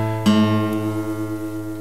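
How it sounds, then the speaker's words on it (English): A guitar is tuned by sounding the A string against the E string held at the fifth fret, with a low sustained tone and a single pluck ringing on, close and alone. "by holding down the E string on the 5th fret, take your picking hand and tune the A string."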